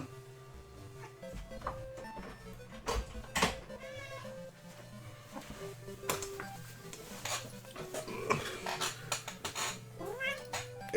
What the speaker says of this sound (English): here's Kathy the cat.